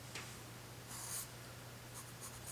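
A pencil scratches lines onto paper in a few short, faint strokes, each a brief dry rasp, close up against a quiet low hum.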